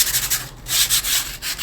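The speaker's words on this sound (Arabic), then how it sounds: "لو محتاج صنفره" Sandpaper rubbed by hand over a decoupage tray makes close, loud rasping strokes, a few quick back-and-forth scrubs with brief pauses between them.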